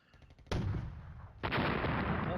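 Artillery fire in the wargame Flashpoint Campaigns, counter-battery guns firing on mechanized infantry: two heavy booming blasts in quick succession, loud and close, each rolling on into a rumbling tail.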